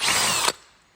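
A power drill with a 3/8 bit whines loudly through a panel for about half a second, then stops abruptly, leaving a quiet tail.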